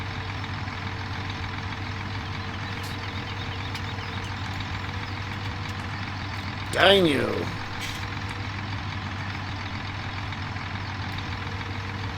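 A tractor engine idles steadily with a low, constant drone while its hydraulics work; a short rising whine and hiss swells midway, and a voice speaks briefly over it.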